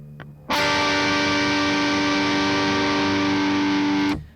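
A distorted electric guitar chord, fretted with the pointer finger on the 6th fret of the high E string, struck once and held loud and steady for about three and a half seconds before being cut off.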